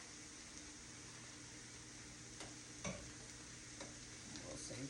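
Garlic stirred into cooked beef in a pan for lasagna, a soft steady sizzle with occasional scraping clinks of a utensil against the pan, quiet and close with no talk.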